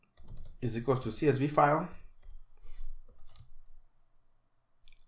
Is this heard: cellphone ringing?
no